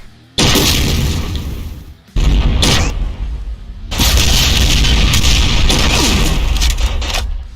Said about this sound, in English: The other type of dual railguns it can fire are heavy railgun shots.